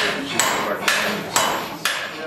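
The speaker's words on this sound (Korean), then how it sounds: "쇠를 두드리는 소리가 경쾌한데 무엇을 만들고 있을까요?" A blacksmith hammers iron at a forge in a recreated 18th-century village, four loud, evenly spaced metallic strikes ringing out close by.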